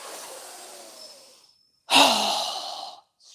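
A strong exhale through the mouth during yoga breathing, a breathy sigh that fades away, then after a brief pause a second forceful, loud exhale begins abruptly and trails off.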